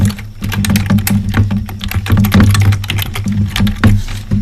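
Someone types a business name on a computer keyboard, a quick, close run of uneven key clicks that goes on without a break. Nobody speaks.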